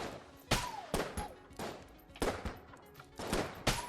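Sharp gunshots from a weapon in Enter the Gungeon, about eight crisp retro-styled shots fired in an uneven rapid rhythm, each with a bright snap and short tail, fairly quiet and close.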